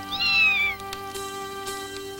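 A cat named Milky Ann in an anime cartoon gives a single short rising meow, followed by quieter soft tonal background sounds.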